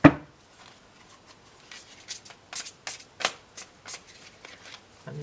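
Tarot cards are shuffled in a series of soft, crisp riffling flicks and slaps, irregular and fairly close, opening with a brief thump and quiet otherwise.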